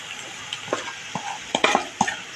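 Bhajani flour being stirred and roasted in a pan, a sequence of close, distinct spatula scrapes and knocks over a faint dry sizzle, with no one talking.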